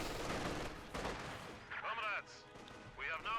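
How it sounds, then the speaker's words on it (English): Machine gun and rifle fire from grenadiers in a Company of Heroes 2 match, rapid crackling bursts up front that thin out as a caster's voice takes over. "MG and Grenadiers opening fire on the conscripts"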